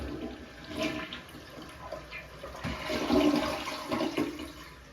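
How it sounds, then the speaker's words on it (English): A toilet flushes in a movie scene, a loud, close rush of swirling water that lasts several seconds and then drains away. "You forgot to flush."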